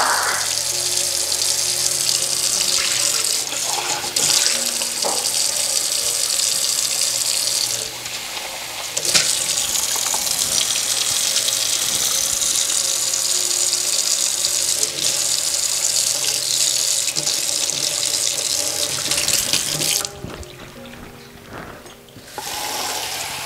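A tap runs steadily into a container to refill water for acrylic painting, a continuous close hissing splash that holds for over twenty seconds, changing pitch slightly as it fills before easing near the end.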